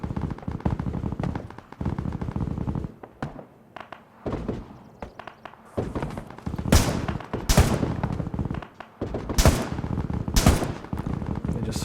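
Heavy gunfire and tank cannon shots pounding a town in the video game Arma 3, with dense bursts of machine-gun fire and loud booming blasts at varying distances, while voices talk underneath.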